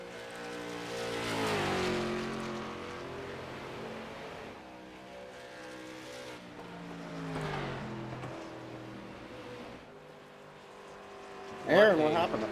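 Race cars lapping in the iRacing video game on the Dover Motor Speedway oval: engines rise and fall as cars pass in waves, followed by a sharp burst at the end, with a commentator talking over the racing.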